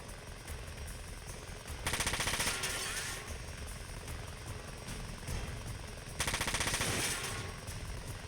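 Two sustained bursts of rapid automatic machine gun fire from a mech in the video game Front Mission 4, each lasting about a second and a half, separated by quieter background game sound.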